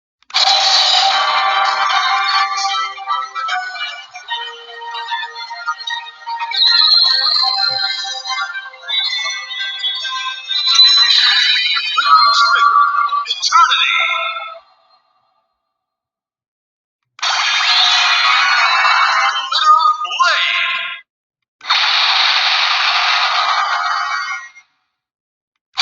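An Ultraman Trigger DX Glitter Eternity Guts Hyper Key toy plays its electronic sound effects through a small tinny speaker, with bursts of chimes and synthesized tones, a long sequence, then silence, followed by two shorter bursts.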